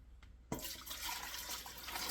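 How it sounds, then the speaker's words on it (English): A gallon of milk pours steadily into a pressure cooker pot, starting abruptly and continuing as a close, even liquid rush with no talking. "We're going to transfer this milk into this pot"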